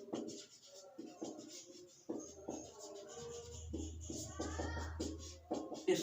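Chalk or marker strokes scratch across a board during a ratio and proportion maths lesson, short scraping bursts in uneven rhythm, close and moderately loud, with a low hum in the background.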